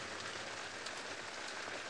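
Steady rain falling on a safari morning, an even wash of close patter with scattered drops and no voices.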